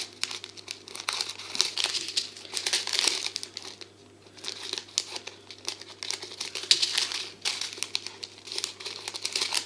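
Plastic bags are pulled apart and crinkled close up in repeated rustling bursts, crackly and bright, with brief quieter pauses between handlings.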